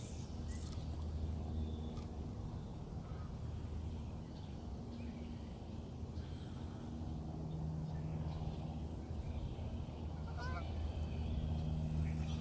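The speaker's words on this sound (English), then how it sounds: "It's so sad to see a single goose flying by itself." A lone goose flies over Lake Elmo in Minnesota, its faint distant honks rising briefly above steady outdoor background noise heard from a kayak.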